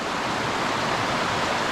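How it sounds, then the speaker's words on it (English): Glacial meltwater from melting snow rushing down a clear, rocky stream feeding into a river, a loud steady broadband wash of flowing water with no breaks. "This is just another feed into that river."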